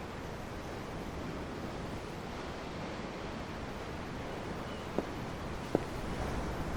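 Ocean waves in the video game Tales of Arise, a steady broadband wash of surf with no distinct breaks, constant and moderately loud, with two faint brief clicks near the end.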